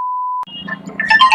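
A mobile phone ringtone: a steady single electronic beep tone held briefly, then cutting into a melodic ringtone of rising chimes, close and loud.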